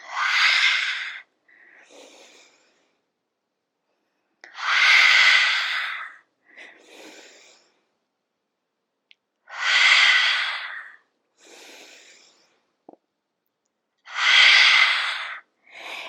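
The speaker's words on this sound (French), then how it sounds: "Vous pouvez expirer par la bouche." Slow, deliberate mouth exhalations during a gentle yoga session, four long airy breaths out spaced evenly, each followed by a softer, shorter breath, with silence between.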